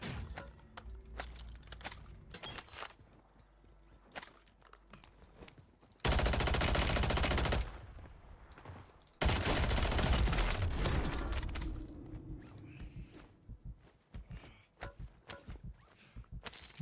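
Enemy automatic gunfire in Warzone, two long sustained loud bursts amid scattered nearby shots, footsteps and clatter.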